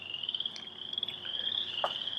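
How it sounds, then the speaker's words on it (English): Frogs croaking at night near a cemetery, a steady high-pitched trilling chorus with a few brief sharper calls poking out, faint and continuous. "These frogs are going crazy."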